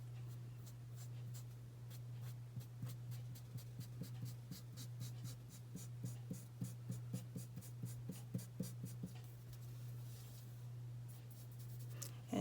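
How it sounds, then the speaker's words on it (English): Pencil sketching a wolf on paper, a quick run of rhythmic scratchy strokes that grows denser toward the middle and then trails off, over a steady low hum. "So you just go back in with your pencil and kind of touch them up."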